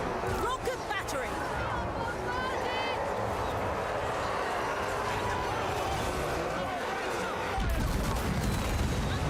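Rocket battery artillery fire in the Warhammer 3 video game, with Cathay forces in battle: a steady barrage of whooshing launches and crackling explosions that continues throughout, with a heavier blast near the end. A commentator talks over it.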